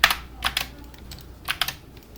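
Computer keyboard keys pressed during 3ds Max Edit Poly modeling work, a Ctrl+Backspace shortcut among them. Crisp, close clicks land in small quick clusters separated by short pauses.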